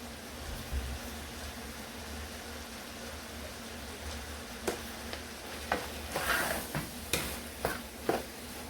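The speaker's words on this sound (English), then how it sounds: "So while we're mixing the rice with the vegetable now" Fried rice with vegetables being stirred in a pan, a soft steady sizzle under a run of light scraping clinks from the utensil that get busier toward the end.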